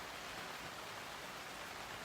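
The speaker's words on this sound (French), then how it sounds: "Regardez, la pluie tombe" Steady rain falling, an even soft hiss of drops without breaks, fairly faint and distant, with no voices or other sounds over it.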